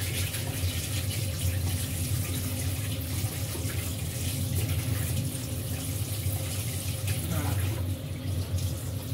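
Tap water runs steadily into a sink over a cloth being warmed and dampened for focaccia dough, a continuous close gush with no talk over it.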